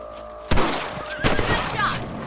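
A rifle shot rings out in the Western video game Red Dead Redemption while out hunting rabbits, with a sharp report and then a second loud blast a moment later, set against a steady ambient bed and faint chirps.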